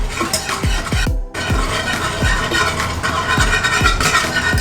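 Boba mixture being stirred in a pot, giving a series of rhythmic scraping knocks of a utensil against the pot's sides at close range, with one brief pause partway through.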